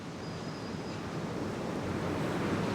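Sea waves roll onto an eroded coast stripped of sand, a continuous broad wash of surf that builds slightly in strength, heard alone with some wind rumble.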